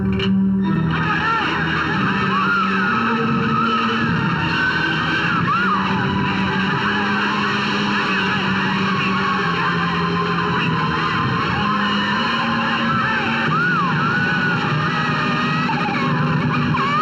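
A car skids during a chase scene in a Hindi dubbed devotional film, loud and sustained with squealing tire-like bands under a dense music and effects mix, with brief shouting voices.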